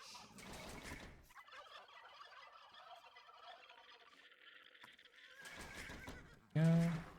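In Age of Empires II, a turkey gobbles amid game sounds, with a horse whinny and clip-clop nearby and a loud, sharp burst at the end; a voice talks over parts of it.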